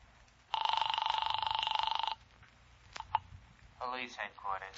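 An old-fashioned telephone bell rings in one long burst of about a second and a half in a radio drama, then stops. A click and rustling follow, and a voice begins.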